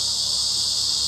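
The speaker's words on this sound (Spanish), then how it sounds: "Las chicharras en verano, aquí las tenemos." Summer cicadas played back from a recording give a loud, steady, high buzzing drone that holds without a break for the whole short stretch.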